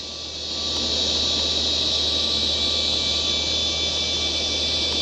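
Jet engine throttling up for takeoff on a runway in a flight simulator game, a loud, steady roar with a high whine that swells in the first second and then holds level.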